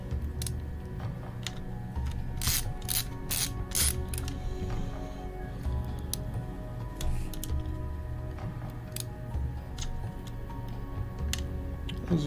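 Small screwdriver turning M2x4 screws into an HP 17t-cn000 laptop chassis while refitting the fan, giving steady faint ticking and ratcheting clicks with scattered sharper taps over a low hum.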